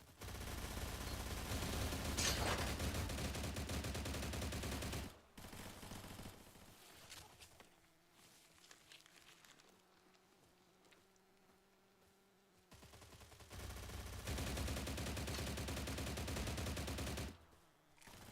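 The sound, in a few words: gunfire from a gun in the video game STALCRAFT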